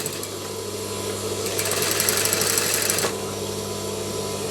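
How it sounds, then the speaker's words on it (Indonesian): A sewing machine stitches bias binding through a funnel attachment, a steady close whirring hum that speeds into a fast dense rattle for about a second and a half before easing back, no voices. "Kita akan mencoba untuk menjahitnya."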